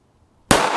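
A single sharp, loud report from a 3-inch pistol firing 9x19mm Magtech 95-grain JSP rounds at a target block. It breaks out of near silence and is followed by a sustained, bright blast tail.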